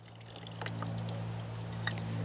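Small baby dragonflies poured out with water into a hand make a brief trickle and splash that runs steadily for about two seconds, with no talking.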